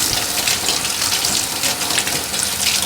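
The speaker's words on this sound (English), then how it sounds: "Then for my eggs, I wash them under cold water." Cold tap water gushes steadily as eggs are washed beneath it, a loud, close, continuous hissing stream with slight splashing variation and no speech.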